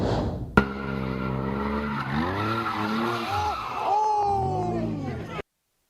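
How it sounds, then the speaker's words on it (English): A car doing donuts at a nighttime street takeover in an Orange County intersection, its tires squealing in long, looping, wavering skids over a revving engine, with crowd noise and shouting mixed in before an abrupt cut to silence. "a man was hit by a car doing donuts in an intersection"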